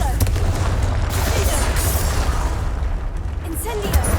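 Confringo fire spell detonating in Hogwarts Legacy, a heavy rumbling blast with crackling bursts that sustains for several seconds, loud and close.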